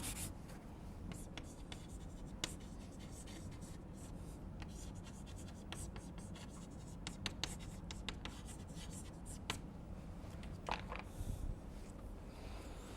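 Someone writes steadily on a board during a thermodynamics lecture, a continuous run of faint scratchy strokes and taps with short pauses, heard close and with no talking over it.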